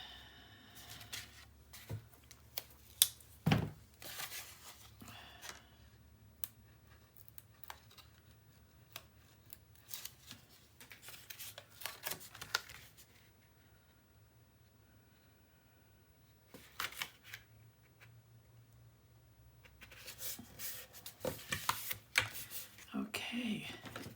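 Tape being pulled and pressed onto a paper panel of a small 8 x 8 craft album, heard as scattered close crackles, rips and light rustles in bursts with quieter gaps between.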